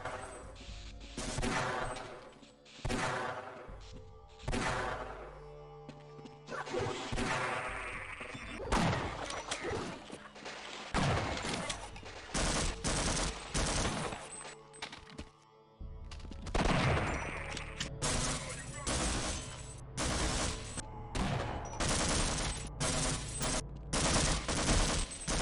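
Dense bursts of machine gun fire and other gunshots ring out in the game Half-Life, loud and close, rattling in rapid strings with brief gaps and occasional crashing impacts throughout.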